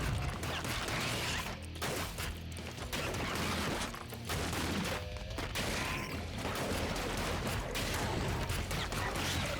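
Rapid bursts of shotgun fire and impacts in the action game ScourgeBringer, a dense run of loud, overlapping blasts and crashes with no pauses.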